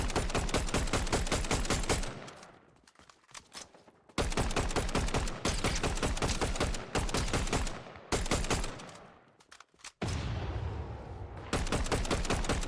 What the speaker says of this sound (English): it sounds like those players are heavy fighting because they're like shooting pistols and stuff